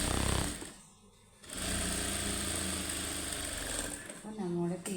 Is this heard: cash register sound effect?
no